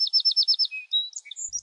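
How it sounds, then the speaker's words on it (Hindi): A small bird chirps in a quick run of about six bright, evenly spaced tweets, then a few scattered higher calls, close and clear against silence. "चुलबुली अपनी खिड़की पर बैठ जाती और चिड़िया के साथ च्यों च्यों बातें करती रहती"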